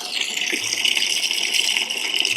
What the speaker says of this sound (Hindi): टूटी खोलो साईं, टूटी खोलो